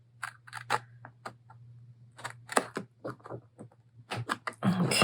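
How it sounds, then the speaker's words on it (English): Scissors snip a slit through folded paper in a series of sharp, close cuts and rustles, with a steady low hum underneath and a louder crinkle of paper handling at the end. "then we'll just cut just that one slit"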